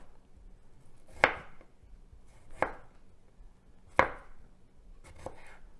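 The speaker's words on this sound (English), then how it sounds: "So I make like a claw with my fingernails and just keep moving as I slice." A knife slices through sunchokes on a cutting board, four sharp separate cuts spaced about a second apart, close and clear with no talk.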